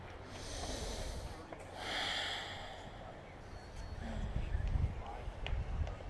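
A slow, deep breath during a yoga flow, drawn in and let out audibly through the nose, close and soft, with a faint snort-like rush and no words spoken.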